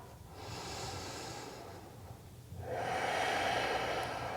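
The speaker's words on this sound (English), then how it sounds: "Take another full breath." A full, slow breath during a vinyasa yoga flow: a soft airy inhale followed by a stronger, louder exhale, close to the microphone, with no talking.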